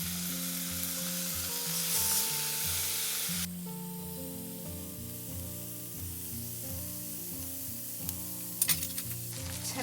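Bacon sizzles and spits steadily on a very hot griddle, a loud close crackle that runs the whole time with some clinks and stirring noises layered over it.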